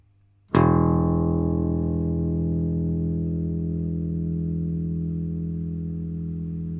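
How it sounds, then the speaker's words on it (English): A single plucked open E string on a bass guitar rings out loud and alone, a sharp attack followed by a long, slowly fading sustained tone. "The fourth string is known as the E string"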